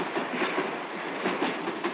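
A train bound for Bombay rolls along the rails in a steady loud rumble with faint rhythmic clicking, continuous throughout with no voices.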